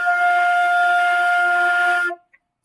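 A flute sounds a single sustained note F, steady and fairly loud for about two seconds before cutting off cleanly into silence.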